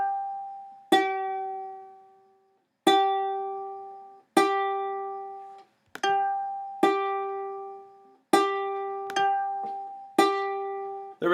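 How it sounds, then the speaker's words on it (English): Ukulele G string plucked repeatedly while being tuned up, about eight clear single notes at irregular intervals, each ringing and decaying, with the pitch settling as the peg turns. "I'm going to twist it out until it sounds like this note."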